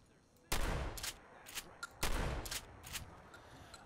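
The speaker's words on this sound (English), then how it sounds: "Are you going to sound like a shotgun that I might like the sound of?" Hunting shotgun in Fallout 4 fires two sharp, loud blasts about one and a half seconds apart, each trailed by metallic reload clicks and rattles.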